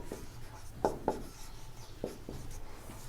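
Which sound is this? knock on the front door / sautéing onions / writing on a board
writing on a board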